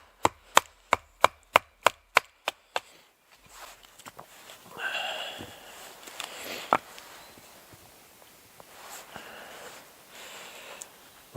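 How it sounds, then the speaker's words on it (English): Firewood being split into quarters with a Russellwood knife outdoors at a bushcraft camp: about nine sharp, evenly spaced knocks close by, followed by quieter scraping and handling of the wood. "Doing a bit of split wood here."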